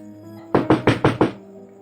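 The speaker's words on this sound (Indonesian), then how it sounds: "Warga yang tidak sabar segera mengetuk keras pintu rumahnya" Five loud, evenly spaced knocks pound on a closed house door, each sharp blow ringing out clearly against a faint background hum with no voices.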